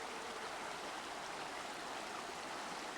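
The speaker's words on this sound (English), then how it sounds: "We're looking in this little creek out from Saldotna." A small Alaskan creek near Soldotna, where salmon come up to spawn, flows with a steady, even rush of water and no other sounds.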